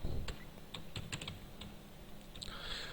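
Keys clatter on a computer keyboard as MATLAB code is typed, with quiet irregular clicks over a low room hum and no speech.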